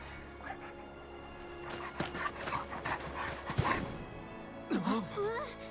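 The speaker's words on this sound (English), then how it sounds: "That's a dire wolf." A dire wolf creature in the video game Visions of Mana makes dog-like panting, whimpering and yipping sounds, fairly quiet and scattered across a few seconds.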